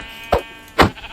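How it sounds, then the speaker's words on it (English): Two short sheep bleats from Minecraft, the second louder and longer, heard close and alone. "Okay, so there's a sheep here,"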